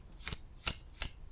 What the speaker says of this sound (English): shuffle up and deal